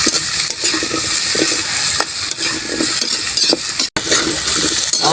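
Bell pepper is stirred into frying pork liempo, a loud steady sizzle with scraping and occasional utensil clinks against the pan, close up.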